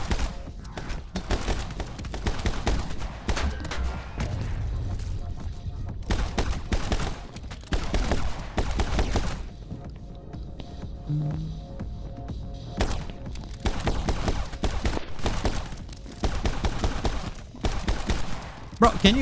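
Dense bursts of rapid gunfire and thudding impacts from the shooting game My Friend Pedro, volleys repeating across the stretch with brief lulls, loud and continuous in the mix.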